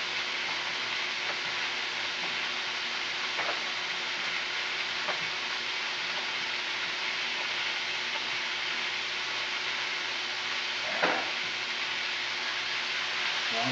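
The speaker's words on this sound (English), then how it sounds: "This just needs to be seared good." Beef for stew sears in a hot pan, a steady broadband sizzle that stays even throughout, broken only by a few faint scrapes and taps.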